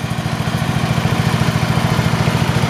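A 1972 Homelite T10 lawn tractor engine runs steadily up close, a loud, low, rapid rhythmic chugging with an even throb and no pauses.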